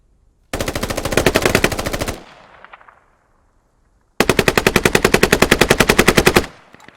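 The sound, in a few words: exchange of gunfire in a video game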